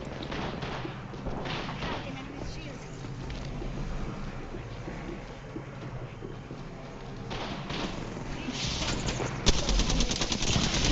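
Video-game gunfire crackles in dense, rapid bursts mixed with dull thuds and explosions, and it builds slightly louder near the end.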